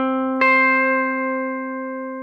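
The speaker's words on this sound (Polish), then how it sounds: "ten dźwięk C kolejny będzie na 13 progu struny B" A single guitar note, C at the thirteenth fret of the B string, is plucked once and rings clear and sustained, slowly fading alone after a brief faint tone beforehand.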